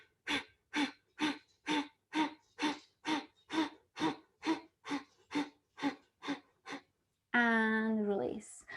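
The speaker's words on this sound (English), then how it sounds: "lift and go for your Kapalabhati breathing" Kapalabhati yoga breathing, about fourteen forceful, evenly spaced nasal exhalations in a quick steady rhythm, close and clear, followed by a long sustained voiced breath out.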